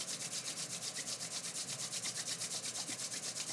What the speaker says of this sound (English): rub your hands together. Again, to create some friction